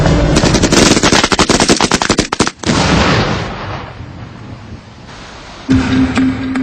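A belt-fed machine gun with a 200-round box magazine, used by the SAS and firing about 850 rounds per minute, rattles off long loud bursts of rapid shots, followed by trailing echoes, a quieter stretch and a final sharp burst.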